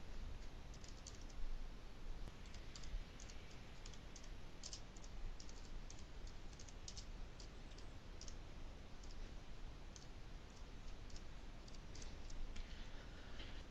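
Steady keyboard typing, with dense rapid clicks running continuously for about fourteen seconds over a quiet room background as text goes into an Excel cell.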